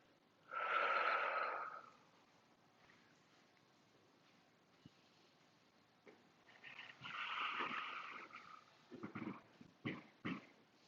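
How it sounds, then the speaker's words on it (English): Two strong breathy exhalations during a floor movement class working the upper body and obliques, one near the start and a longer one later, followed by short puffs and rustling. "Exhale."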